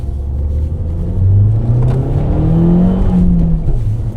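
A Fiat Punto Abarth's engine revving while on the move: a loud, close rumbling engine note whose pitch climbs and dips across a couple of rising pulls, continuous throughout with no talking.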